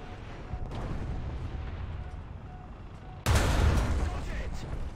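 Gunfire in War Thunder during a Challenger tank battle, a steady rumble of distant shots and combat noise that gives way to a louder, closer burst of heavy firing partway through, with talk over it.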